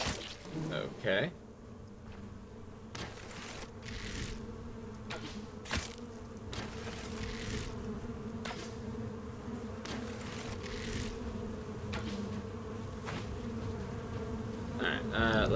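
Hives in the orchard of the game Stoneshard give off a constant bee drone, heard alone under intermittent game clicks and footstep-like taps.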